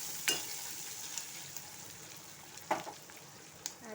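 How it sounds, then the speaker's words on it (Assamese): Garlic, green chili, onion and ginger frying in a pan as the base for a gravy, giving a steady close sizzle with a few sharp stirring clicks and scrapes. "নহৰু, কেঁচা জ্বালা, পিঁয়াজ এইবোৰ মই ইয়াতে ভালকৈ ভুনি ল'ম।"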